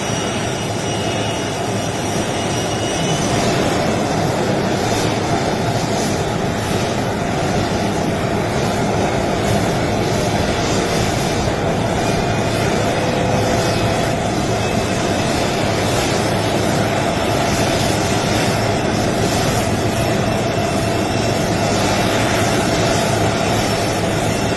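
Steady, loud roar of an airplane's engines on the ground during an official arrival in the UAE, a dense continuous rumble and whine with no pauses for the whole stretch.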